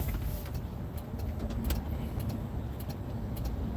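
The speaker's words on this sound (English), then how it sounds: "Sitting in traffic in New York City on the FDR drive." Car traffic on the FDR Drive in New York City, a steady dense rumble of engines and tires with faint clinks, heard close from inside or beside slow-moving vehicles.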